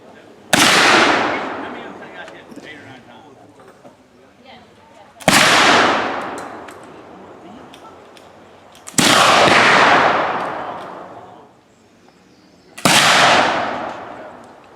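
Black powder muzzleloader shots at an NMLRA primitive shooting range: four loud, sharp booms spaced a few seconds apart, each with a long rolling tail that fades slowly before the next report.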